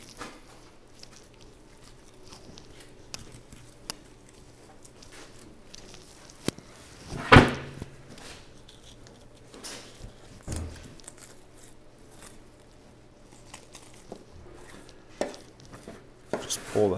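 Butcher's knife cutting baby back ribs away from a pork loin, quiet scraping slices with one sharp louder chop midway, close and without talk.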